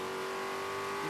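TA2 race cars roaring down the front straight at Mid-Ohio, a loud, steady engine drone at high revs with no break over the brief moment.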